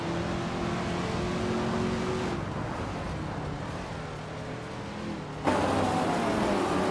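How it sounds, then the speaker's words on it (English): A 1968 Porsche 912R race car in a racing video game, its engine droning steadily at high revs with tonal shifts as gears change, a sharper note rising near the end, loud and continuous. "Telescope is driving a Porsche 912R from 1968"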